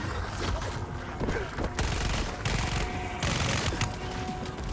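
Sustained gunfire from a shooter in Helldivers, a dense, loud rattle of rapid automatic shots with a few brief pauses between bursts, close and continuous over the whole stretch.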